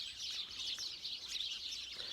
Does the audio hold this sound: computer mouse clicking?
no